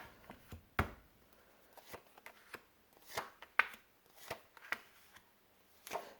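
Shuffling a Rider-Waite tarot deck by hand: irregular crisp card snaps and riffles, some sharp and close, spaced unevenly over a quiet background with no speech.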